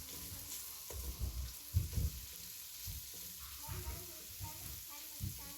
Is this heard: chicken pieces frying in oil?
yes